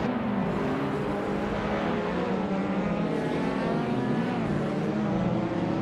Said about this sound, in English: Justin Giltz is driving a 2013 Peugeot 208 R2